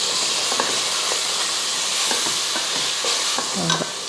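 Onions with ginger garlic paste sautéing in a pan: a steady frying sizzle and hiss throughout, broken by several brief stirring scrapes, loud and close with no talk.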